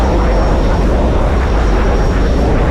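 Aircraft engine of a plane climbing in the video game Battlefield Iraq, a loud constant droning roar with a faint steady whine, unbroken throughout.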